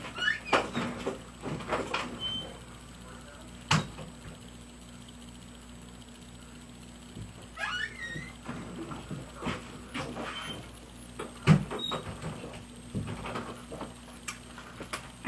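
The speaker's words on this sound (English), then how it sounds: "just give me 1 second just to open the door" A door is opened indoors, heard as a series of close clicks, knocks and rattles from the handle and latch, with scattered shuffling and small taps between them.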